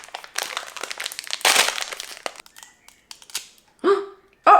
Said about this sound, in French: On va ouvrir ce cookie de la fortune.